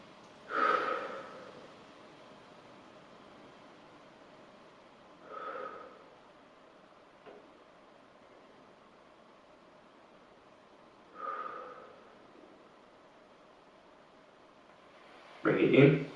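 Slow, deep breaths during a relaxing stretching exercise come as soft, separate airy rushes spaced several seconds apart, with a stronger, closer exhale at the end over quiet background hiss.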